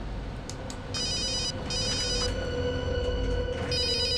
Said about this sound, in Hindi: अभिजीत का फोन